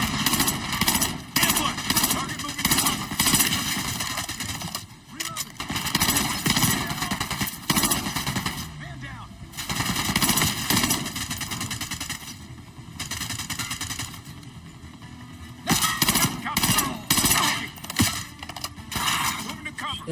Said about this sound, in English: I don't like its burst fire